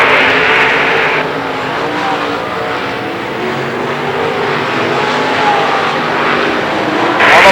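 Late model stock cars race in a feature at Lernerville Speedway, their engines producing a loud, continuous roar with a steady blend of several cars, rising briefly at the end as they pass close by.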